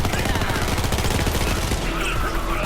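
The EMP5 firing at a very high rate in a video game, producing a loud, continuous stream of rapid automatic shots with no break.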